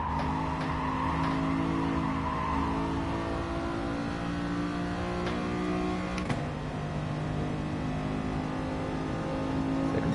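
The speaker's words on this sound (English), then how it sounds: "That's the power of the SLS on the straight." Mercedes SLS GT race car in GT Sport, engine droning steadily at high revs with a sustained harmonic tone as it carries speed down a straight, alongside faint tire noise and other cars; continuous and loud, with no talking.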